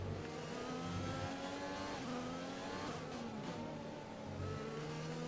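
A Formula 1 car's engine in the F1 2020 video game screams as it accelerates down a straight at Abu Dhabi, rising through gears with shifts and revving continuously, loud and close.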